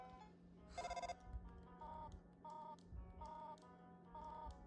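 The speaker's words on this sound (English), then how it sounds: "Alright, cell phone. Get the call." A cell phone in the video game Undertale rings with short repeated electronic tone bursts in an even rhythm, faint, over a low steady hum.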